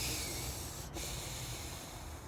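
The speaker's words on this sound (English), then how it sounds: "quick cleansing breath" One quick cleansing breath taken during a relaxation breathing exercise, a soft airy snort-like inhale and exhale, close and faint, over steady background hiss.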